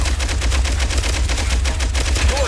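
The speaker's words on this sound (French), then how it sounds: "On va essayer l'arme qu'ils m'ont donnée pour le niveau 3." Rapid automatic weapon fire in the shooter game Pixel Gun 2, a steady stream of loud, evenly spaced shots running without pause and with no talk over it.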